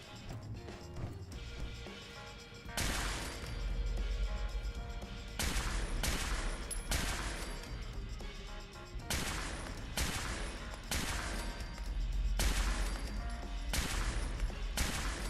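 Fallout 4 gunfire in a modded game, with repeated loud bursts of shots coming in clusters at an irregular rhythm and brief quieter gaps between volleys.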